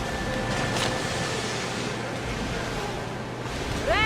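A ship sailing out of harbor in Assassin's Creed Odyssey, with a continuous rush of waves and wind against the hull, steady and fairly close, plus a short tonal call just at the end.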